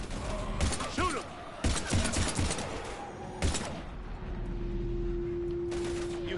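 Bursts of rapid gunfire in the video game Mass Effect Legendary Edition, several loud volleys of shots with thuds and mechanical clatter, a sustained hum between them, no speech.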